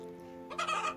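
A cartoon hen clucks in a short burst of busy, bright calls that come in halfway through, over a steady musical background.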